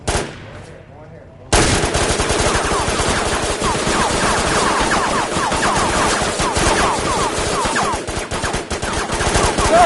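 Rapid bursts of automatic gunfire in a Roblox video game erupt after a brief quieter moment, then continue loud and dense as a sustained barrage.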